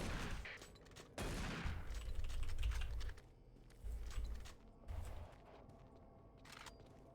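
Shotgun fire in the first-person shooter game Doom 3: a few separate heavy booming blasts spaced out over several seconds, with clicks and game noises between them.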